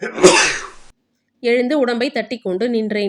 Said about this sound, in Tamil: தும்மல் என் மனைவியை எழுப்பிவிட்டது.